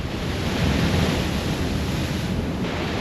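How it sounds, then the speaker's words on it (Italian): Stormy sea waves break on the shore in a continuous loud roar and rush of surf, heard close with heavy wind buffeting the microphone. "Arrivano onde impressive."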